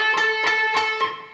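Electric guitar sounds a single note on the G string at the 14th fret, picked four times in quick even succession, bright and sustained with the last pick ringing out and fading, heard alone up close.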